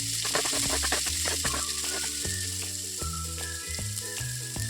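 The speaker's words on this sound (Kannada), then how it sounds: "ಒಂದು 2 ಚಮಚ ಆಗುವಷ್ಟು ಎಣ್ಣೆ ಹಾಕಿ ಇದನ್ನು ಹುರ್ಕೊಂಡಿದ್ವಿ" Moth beans (matki) roasting in about two spoons of oil in a pan, giving a steady close sizzle and frying crackle with intermittent scraping and stirring knocks throughout.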